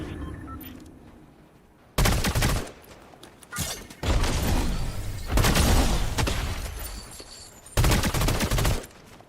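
Gunfire from a shooter video game, heard as loud bursts of rapid automatic fire in three or four long volleys separated by short quieter gaps.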